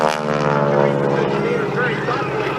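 An aerobatic airplane pulls away under power at the 2013 Wings Over Coshocton Air Show, Richard Downing Airport, Ohio, its propeller engine droning loud and steady with a rising, sustained roar while an announcer talks over it.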